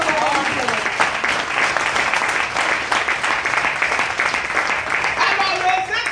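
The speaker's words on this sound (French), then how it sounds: "Will you clap for the Holy Spirit?" Congregation applauding at a Christian women's Pentecost conference, dense steady clapping filling the room throughout, loud and continuous with a crowd murmur and some voices underneath.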